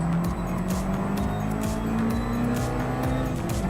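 Subaru Impreza race car in Gran Turismo Sport, a loud constant engine roar with shifting pitch and brief tire squeals, racing among other cars.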